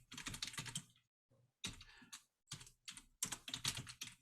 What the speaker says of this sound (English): If I were typing on the right keyboard